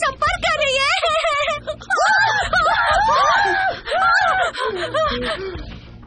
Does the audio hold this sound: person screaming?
yes